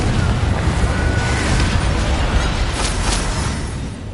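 A Confringo blasting spell explodes in Hogwarts Legacy, a loud, broadband burst of fiery blast sound that rolls on and slowly fades.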